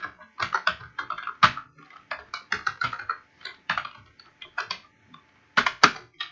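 Computer keyboard being typed on while writing C++ code, with close, crisp key clicks in irregular bursts and short pauses, no talking.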